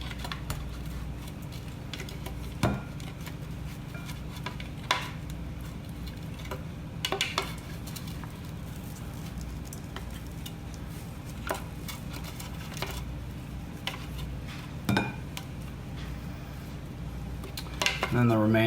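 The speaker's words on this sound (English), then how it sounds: "And I'll just scoop out right into the dish." Juicer pulp being scooped out of a budget juicer into a dish, heard as quiet scraping and intermittent sharp clicks and knocks of the scooper against plastic and dishware, spaced irregularly over a low background hum.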